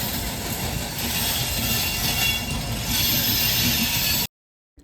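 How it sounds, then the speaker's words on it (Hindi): Loud, harsh screeching and rattling of a passenger train on the Patna–New Delhi run near Ghaziabad, a continuous grinding roar with rhythmic wheel clatter that cuts off abruptly near the end. "ट्रेन की इतनी गंदी आवाज़ और इतनी तीखी आवाज़ से आपको कुछ सुनाई नहीं दे रहा होगा"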